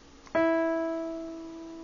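A single F-flat note is struck with a sharp attack, then rings steadily with clear overtones and gradually decays, heard alone.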